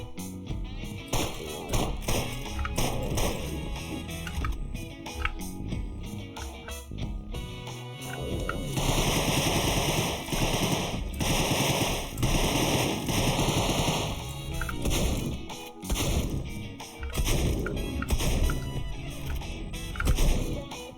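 Rapid gunfire in the Deadbolt video game, bursts of shots crackling over a busy game soundtrack, with a denser, louder stretch of firing in the middle and continuous game sounds throughout.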